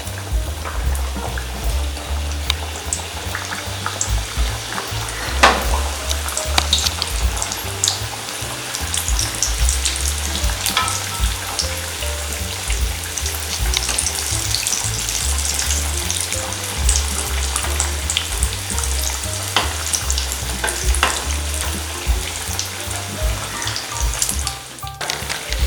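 Padhir peni sweet dough frying in hot oil in a kadai over a medium flame, a steady close bubbling sizzle that runs throughout with small crackles and the occasional clink of a utensil, no talk.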